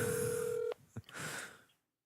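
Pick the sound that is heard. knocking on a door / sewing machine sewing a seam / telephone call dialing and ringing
telephone call dialing and ringing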